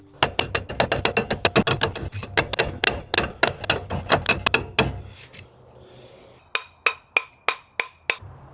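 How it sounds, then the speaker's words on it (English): A chisel chips at fire brick in a fast run of sharp, close strikes, then pauses and finishes with a handful of slower, evenly spaced knocks. "so I got a chisel out and made them fit"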